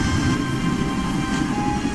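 A train rumbles steadily in the video game Broken Sword: Shadow of the Templars, a continuous deep rolling drone with a faint metallic whine riding on top, heard alone without pauses.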